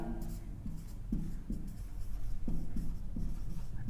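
Chalk or marker writing on a classroom board, a run of short scraping strokes at close range with steady room noise behind and no talk.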